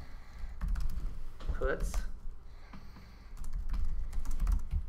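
Keys tapping on a computer keyboard in a classroom during a programming lesson, with scattered clicks and short bursts of typing over voices talking.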